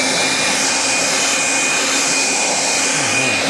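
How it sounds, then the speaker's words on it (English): A Kobalt leaf blower runs steadily at full power, a loud continuous roaring whoosh with a faint whine that holds without pause. "Let's blow this thing off with this."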